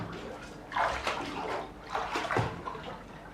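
Water sloshes and washes around in a bathtub in two swelling bursts, close and moderately loud, over a constant watery background with no clear speech.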